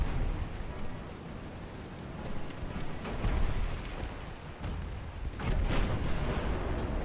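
Heavy 9-inch naval guns firing in the Ultimate Admiral Dreadnoughts warship game, a steady rumble of dense booming broadside fire with stronger blasts near three and six seconds, loud and continuous with no talk over it.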